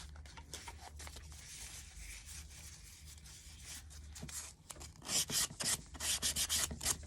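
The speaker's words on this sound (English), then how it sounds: "and sand that little piece that overhangs or overlaps" Sandpaper rubbed by hand over a small overhanging piece of wood on a homemade Easter bunny stand, a steady close rasping that turns into louder, quicker scrubbing strokes toward the end.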